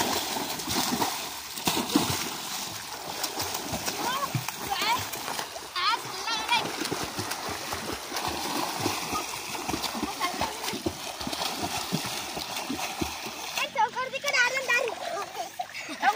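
Children swim and play in a village canal, with constant water splashing and sloshing under lively kids' shouting and chatter throughout, busy and close.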